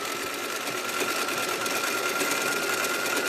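A home sewing machine runs steadily while stitching free-motion horizontal lines on a slightly bouncy table, a continuous close whirring hum with fast rhythmic needle chatter and no voices.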